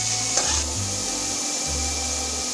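Leftover rice with grated carrot stir-fried in a pan: a steady close sizzle with scraping and stirring strokes, alone without talk.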